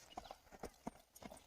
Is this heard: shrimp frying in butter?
no